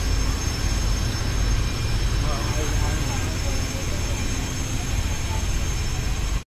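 A Dhaka to Barisal passenger launch ferry under way makes a loud, steady engine drone and rumble that runs continuously with no break, then cuts off abruptly at the end.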